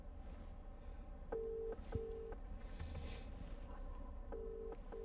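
Outgoing call ringing through Apple CarPlay in a 2020 Porsche Macan S, repeated short electronic ringback tones in evenly spaced pairs over a quiet low cabin hum.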